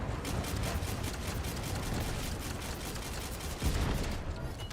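Rapid, dense gunfire aimed at an aircraft in the video game The First Descendant, a steady loud rattle of continuous shots lasting throughout.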